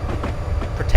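Train running in the rail simulator game Railworks on a York to Newcastle route, a continuous loud rumbling rail drone with a faint rhythmic clatter, under a voice.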